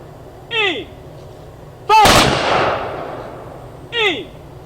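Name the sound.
rifle volley fired by a memorial firing squad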